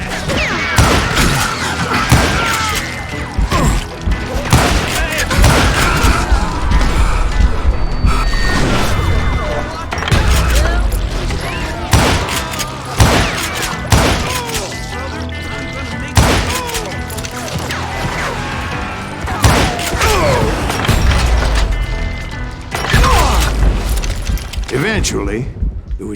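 Loud gunfire in the video game Call of Juarez Gunslinger, with repeated shots, booms and crashes over a tense score, and voices talking between the bursts.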